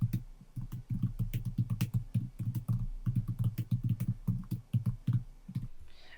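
Computer keyboard keys clatter in a quick, steady run of clicks through most of the clip, typed up close and alone, with no talk, then a brief pause near the end.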